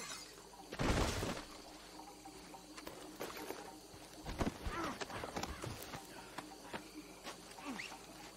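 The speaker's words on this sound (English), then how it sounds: "Smashed him in the head with a bottle." A glass bottle smashes over a man's head in Red Dead Redemption 2, one loud shattering burst followed by scattered thuds, scuffling and rattling impacts that fade into quieter background noise.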